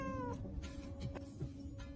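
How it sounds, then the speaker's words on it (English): A cat meows close by in a drawn-out, wavering cry with faint shuffling sounds after it, and no one speaking. "Get that cat out of here this instant!"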